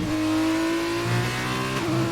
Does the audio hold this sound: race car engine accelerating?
yes